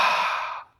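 Ujjayi yoga breath made by narrowing the back of the throat, a single soft, airy, ocean-like exhale that is close and clear and fades out after just under a second.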